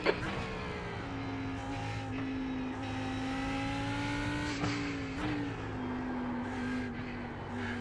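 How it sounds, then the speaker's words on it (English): Race car engine in a sim racing game drones and shifts pitch as another car approaches, steady and moderately loud with brief tire noise and no talking. "No, I think, car approaching."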